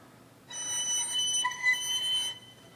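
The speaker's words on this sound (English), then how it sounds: "And here's an F sharp harmonic." A thin, high, pure violin F sharp harmonic held steadily for about two seconds, clear and alone, ringing with a flute-like tone.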